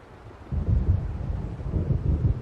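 Low rumbling thunder rolls in from an approaching storm over open water in the game Alan Wake, a deep, continuous grumble with swelling pulses after a quiet start, distant but full and unbroken to the end.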